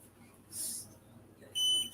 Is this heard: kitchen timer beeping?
yes